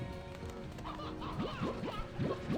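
Chickens cluck in quick, rising chirpy bursts in Slime Rancher 2, about six short calls in the second half over a steady ambient game hum, moderately close and with no talk.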